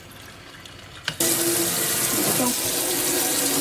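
A kitchen tap in a tiny house turns on abruptly and runs steadily, a loud, close rush of water after a quiet moment with a brief spoken word just before.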